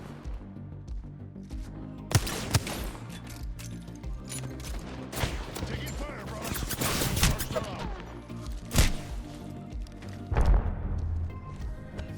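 Gunfire from the video game Apex Legends crackles in bursts and single loud shots across a busy firefight, with thumps and explosions mixed in, over game sound and some faint voice chatter.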